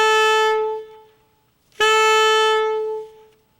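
An alto saxophone plays two sustained F sharp notes, each held about a second or more, clear and alone with a short pause between them.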